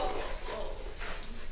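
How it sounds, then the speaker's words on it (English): Dogs sound up close, with short yips, whimpers and barks in a quick, uneven burst at a family's Christmas gathering. "Look at them dogs."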